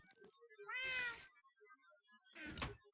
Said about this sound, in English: I'm going to murder that cat's face. If it don't stop meowing.